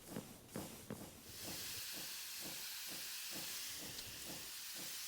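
A train moving in Minecraft, a steady hissing rush layered with a regular rhythmic chugging pulse, close and moderately loud, after a few sharp puffs at the start, with no talking.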